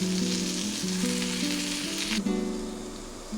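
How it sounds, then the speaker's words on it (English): Mushrooms frying on a tawa over low flame give a dense, steady crackle and sizzle close up, with a brief stirring scrape partway through. "I can hear the sound, the crackling sound."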